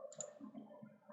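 Computer mouse clicks during CATIA part design work: a couple of small, sharp clicks, faint and close, over a soft tonal background.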